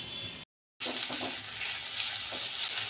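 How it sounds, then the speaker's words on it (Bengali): Chopped onion sizzling in hot oil in a pan with salt added, a steady close frying hiss broken by one brief cut, then continuing with light stirring crackles and no talk. "পেঁয়াজটা তেলের মধ্যে দিয়ে দিয়েছিলাম, তারপরে দিয়ে দিয়েছি স্বাদ মতো মোটামুটি নুন"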